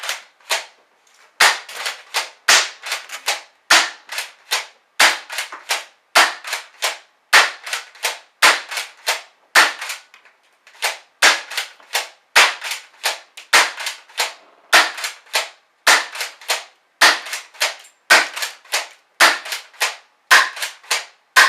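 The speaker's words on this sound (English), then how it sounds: "with the Crosman Stinger S32P pump airsoft shotgun" A Crosman Stinger S32P pump airsoft shotgun firing at 350 FPS, sharp loud snapping shots repeated in quick succession, each followed by a short pump-action clack, with no talking.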